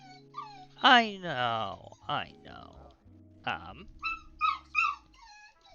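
A pet dog whimpers and lets out rising, drawn-out howls and yips nearby, with someone briefly talking in between.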